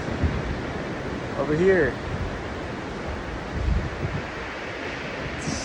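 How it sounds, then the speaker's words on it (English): Ocean surf breaking on a spring day on the New Hampshire coast, a steady broadband wash of waves and wind rumbling without pause, with a voice briefly heard over it. "Waves are perfectly groomed"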